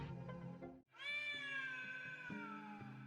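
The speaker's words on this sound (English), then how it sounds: "a dainty meow echoes around the room, signaling the appearance of a pristine white feline" A cat meows in a video game: one long, clear, dainty meow that slowly falls in pitch, preceded by softer background noise and sounding close and distinct.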